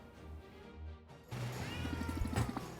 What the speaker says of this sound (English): Cats!